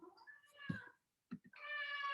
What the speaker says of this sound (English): I'll have to lock my cat up.